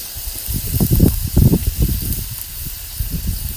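Shrimp crackle and sizzle on a hot grill alongside skirt steak, peppers and onions, a steady close hiss with bursts of louder popping as the pieces are flipped over.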